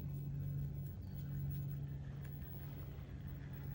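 An Axial Ryft RC crawler truck with dual motors drives along, giving a faint, continuous low motor whine and hum with a slight rise and fall, no voices.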